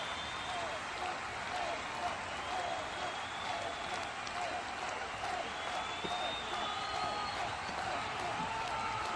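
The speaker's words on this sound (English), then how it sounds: "receives a wonderful round of applause from the home fans" A large football crowd of home fans applauds a substituted player steadily and continuously at a Newcastle United vs Liverpool Premier League match, a dense, even wash of clapping heard from a distance with faint cheering mixed in.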